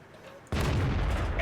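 A tank gun fires in World of Tanks from a British FV201 A45, one sudden loud boom cutting in after quiet, then a sustained rumbling tail and clatter of battle noise.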